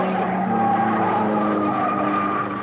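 Vintage 1950s Grand Prix race cars, Stirling Moss's Maserati number 28 among them along with Ferrari and Maserati rivals, roar continuously with high engine whine and tyre squeal, loud and sustained with no talk.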